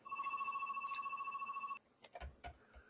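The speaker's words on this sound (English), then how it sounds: "I'm not going to answer that phone because I'm looking." A telephone rings indoors with a steady electronic trill for nearly two seconds and then stops, leaving a few soft knocks and shuffles.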